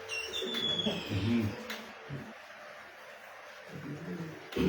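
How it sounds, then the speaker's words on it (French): Pigeons or doves cooing in soft low phrases mixed with faint bird chirps, near and intermittent, under someone speaking. "Même les oiseaux chantent."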